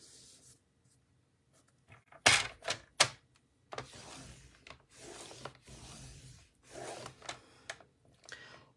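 Paper being creased and folded by hand to make a Christmas ornament, a close, quiet series of sharp crackling and rubbing sounds in short irregular bursts with pauses between them.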